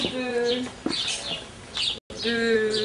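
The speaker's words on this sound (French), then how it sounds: "Tu verrais la montagne d'oiseaux qui sont ici. Ça chante de tous les côtés, ça chante." Many birds chirp and sing at once in a neighbourhood community garden in Roubaix, with overlapping tweets and warbling trills filling the air at moderate volume and a brief break in the middle.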